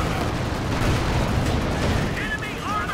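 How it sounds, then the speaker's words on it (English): Dense, continuous battle din from Company of Heroes 2, with gunfire and artillery rumbling together at a steady loud level, with faint whistling shells near the end. "So I see this, and we're going to start shooting."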